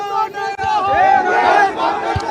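Large crowd at a Congress candidate's road show in Ladnun cheering and shouting in welcome for Mukesh Bhakar, a dense, loud babble of voices with rising cries and scattered low thumps.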